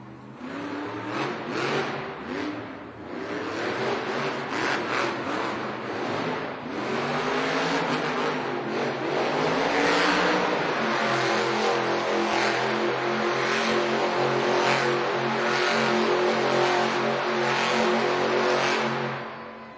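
A Monster Jam truck, Velociraptor, revs its engine loudly in an indoor arena in Denver during a live event. The roar is sustained and rising, with crowd and arena noise underneath.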